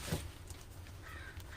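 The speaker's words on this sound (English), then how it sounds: "It's funny, these crows, they show up and they go nuts in the trees over our house" Crows in the trees over a house give a few harsh caws at moderate distance, fairly faint over a steady low background rumble.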